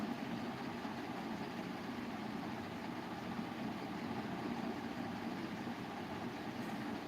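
A tractor engine idling nearby, a low, steady rumbling drone that stays even and unchanging throughout, with no voices over it.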